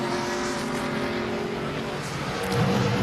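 Kyle Busch's number 18 NASCAR Sprint Cup stock car on track during practice at Loudon, a steady loud engine drone that swells slightly near the end, without voices.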